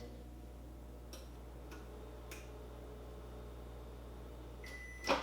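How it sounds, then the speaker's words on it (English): A microwave oven hums quietly and steadily, with a few faint clicks and ticks spread through the run and a short beep near the end. "I'm gonna put these in the microwave for just a few seconds."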